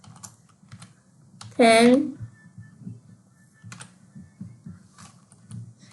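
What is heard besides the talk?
typing on a computer keyboard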